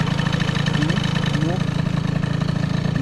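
A small motor with a carburetor idles close by, a loud, steady, rhythmic chugging that continues throughout.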